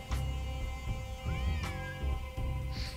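A cat meows in a Nancy Drew video game, with a few short mews over a low background hum and a faint musical tone.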